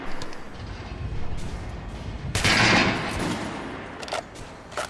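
Gunfire in the video game Metro Last Light Redux: bursts of shots crackle in rapid clusters, with a louder, denser volley midway and sharp isolated reports near the end.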